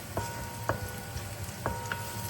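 Shallots frying in a pan give a soft, steady sizzle with a few light ticks and pops, faint and close, with no talking.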